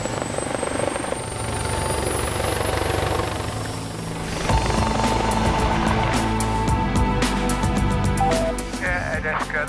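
An air ambulance helicopter lifts off and flies, its rotor and engine building from a steady whine into a loud, continuous chopping roar that fills the whole stretch.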